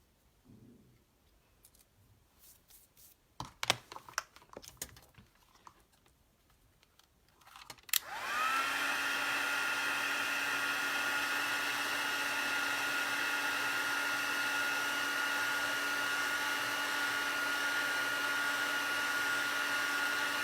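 After several seconds of clicks and handling, a heat tool or dryer whirs on and runs as a loud, steady, close drone while drying ink on a handmade masculine thank-you card.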